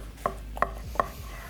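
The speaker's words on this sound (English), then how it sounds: "Let me see if I can get a slice out of here." Knife cutting through smoked beef chuck roast on a board, three evenly spaced sharp taps close by, alone without talk.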